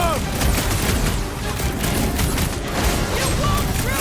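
Rapid gunfire and blasts in a chaotic sci-fi action battle scene from Guardians of the Galaxy, dense and loud throughout with no pauses, layered with mechanical clatter and booms.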